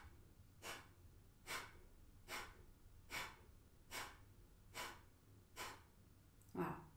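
Rapid yoga breathing with forceful nasal exhalations, seven sharp puffs at a steady rhythm of about one per 0.8 seconds, close and clear over a quiet background.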